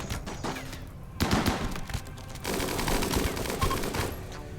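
Bursts of gunfire from a colony firefight in RimWorld, rapid clattering shots arriving in waves with a brief lull, then a denser, louder stretch of continuous fire, close and busy.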